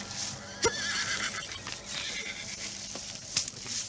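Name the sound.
horse neighing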